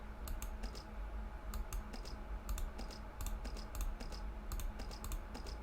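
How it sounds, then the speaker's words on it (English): Typing on a computer keyboard in a video game: quick bursts of crisp key clicks in short rhythmic clusters, close and clear over a low steady background hum. "so can I type something?"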